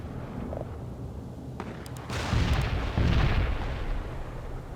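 Mortar fire in the World in Conflict Soviet Assault game, with two heavy booming launches around the middle that rumble low and loud over a steady battlefield backdrop, no speech.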